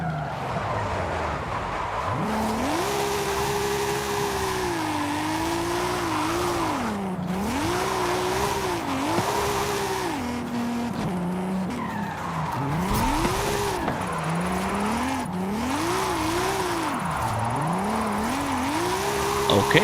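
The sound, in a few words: Lamborghini drifting with tire squeal in video game Forza Horizon 5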